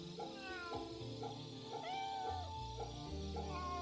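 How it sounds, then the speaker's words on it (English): A cat meowing in the video game Fate/Samurai Remnant, several drawn-out mewing cries over a steady music and game background. "Cats."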